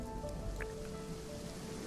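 Steady rain pours down during a storm outside a house on the edge of a small town, a continuous dense hiss with a low rumble beneath it, with no voices.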